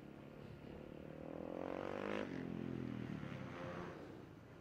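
A supermoto motorcycle at the 2017 Taiwan FIM Asia Supermoto Championship practice passes on track, engine note rising and falling with a pitch drop, moderately distant and fading.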